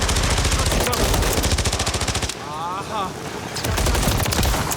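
Rapid automatic gunfire rings out in a Call of Duty Modern Warfare III match: dense, loud bursts of shots, a short break with quieter game sounds, then another volley of fire.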